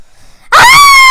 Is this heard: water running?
no